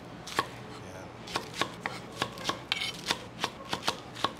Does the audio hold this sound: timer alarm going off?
no